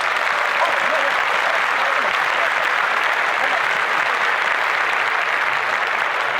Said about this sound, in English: can we give a round of applause to Geno Smith?